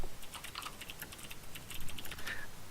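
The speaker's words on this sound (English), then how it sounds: "I was typing shadow player or something" Quiet typing on a computer keyboard, a rapid, irregular patter of soft clicks continuing throughout, faint and close with no talking.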